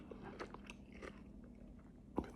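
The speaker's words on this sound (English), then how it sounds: "Amazing crunch." Someone bites into crispy, freshly cooked food, a few quiet crunches building to one sharp, loud crunch near the end, close up.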